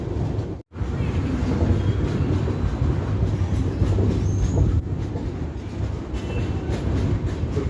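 The 11013 Mumbai–Coimbatore Express pulls away from Tiruppur station with a loud, close rumble of wheels on rails and a steady clatter, plus faint squeals of railcars, heard from on board.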